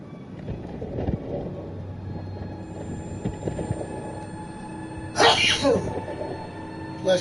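One sharp sneeze bursts out near the end over a low, rumbling background of engine-like noise and faint talk.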